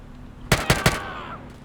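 Three quick, loud gunshots ring out in succession during a GTA Online firefight, spaced evenly about a fifth of a second apart, with a faint metallic ring trailing after the last one.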